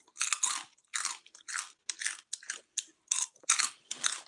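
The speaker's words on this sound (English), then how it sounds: "Y'all excuse my smacking on these crunch." Crunchy snack chewed loudly and close up, in a steady run of about a dozen sharp, crackling bites and chews separated by short silences.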